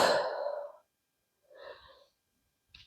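A breath exhaled during a Pilates exercise, a soft airy whoosh fading out, followed after a pause by a shorter breathy puff and a brief final breath, close and fairly loud.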